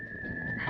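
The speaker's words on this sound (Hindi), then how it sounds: "अब बेटा भी सीटी बजाना सीख रहा है" A single steady whistled tone held for under a second, clear and fairly close, wavering slightly in pitch over a soft background.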